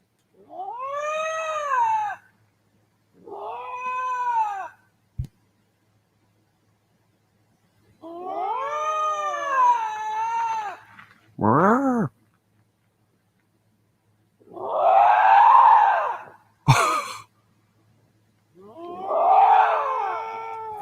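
A wild cat, cougar, bobcat or lynx, screams in the dark woods at night: drawn-out, wavering, woman-like wails in five or six separate bursts with silent gaps between, loud and close, plus a couple of sharp clicks.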